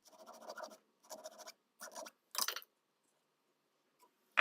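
Short strokes of a jeweler's saw cutting silver wire for small hoop stud earrings: four quick bursts of rasping, scratchy back-and-forth, close and crisp, separated by brief pauses, with no talking.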